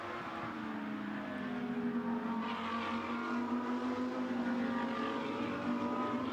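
GT2 race cars run downhill at Spa-Francorchamps, their engines droning loudly with a rising and overlapping whine as several cars pass, steady and continuous without commentary.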